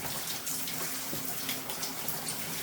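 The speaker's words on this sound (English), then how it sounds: "And I've got it on a shower now" A shower sprayer hisses steadily as water pours over an Australian Shepherd or Poodle being bathed for grooming, a close, continuous spray.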